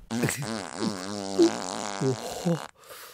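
Cartoonish fart sound effect, a drawn-out wobbly rasping blurt with shifting pitch that breaks into a few short puffs before stopping, loud and close with nothing else around it.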